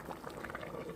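A pot of pollock soup with bean sprouts, garlic and tofu bubbles at a rolling boil, a dense, steady close simmer of popping bubbles with no voices.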